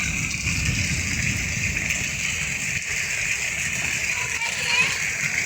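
Heavy monsoon downpour in Ashti village pouring into a bucket, a dense, steady rush of splashing water that carries on without a break from start to finish.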